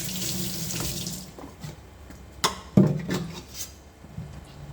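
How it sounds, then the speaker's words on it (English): Tap water runs steadily into a sink during dishwashing, a broad hiss that fades after the first second into quieter splashing, with a couple of sharp clinks of dishes and utensils close by. "Record yourself washing dishes."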